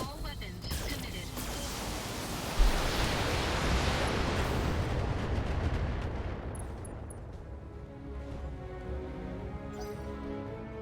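Heavy mech weapons fire in the BattleTech game, a dense sustained barrage of booming blasts with one sharp hit early, fading into rumbling aftermath and scattered debris.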